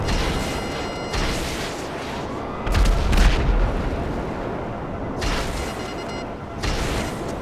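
Heavy turret fire in GTA Online, a loud rumbling barrage with thumping impacts and booming bursts that swell and ease over a constant noisy background, no voices.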